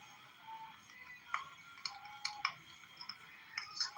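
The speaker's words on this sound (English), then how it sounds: "I'm tired of typing." Quick, irregular clicks of keyboard typing, close and fairly quiet, with brief sharper taps scattered through a soft steady background hum.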